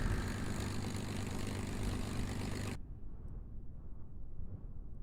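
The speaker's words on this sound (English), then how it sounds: "that engine just, like, literally just shuts down" An aircraft engine in Kerbal Space Program drones loud and steady, then cuts off abruptly, leaving only a faint low rumble in the quiet that follows.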